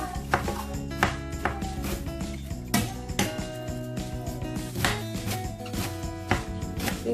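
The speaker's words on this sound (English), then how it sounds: "So I'm going to be slicing vegetable." Knife chops vegetables for plantain porridge in a rapid, irregular series of sharp close taps against a board, heard over background music with no talk.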